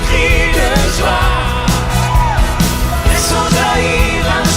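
A worship congregation shouting cries of joy at a prayer gathering, loud sustained yells and whoops from many voices blending with music throughout.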